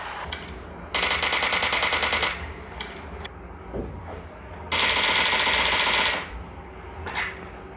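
Two long bursts of automatic gunfire in the mobile game PUBG played on a Vivo V20 phone, rapid loud rattling volleys with a few single shots and quieter gaps between, no voices.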